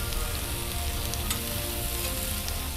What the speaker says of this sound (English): Got a nice sear on this side